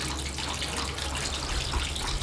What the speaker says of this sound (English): So open the valve, release the water.